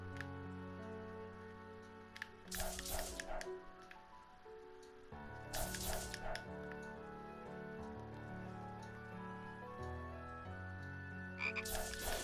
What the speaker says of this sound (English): Okay, the fairies I can understand, but frogs? Really?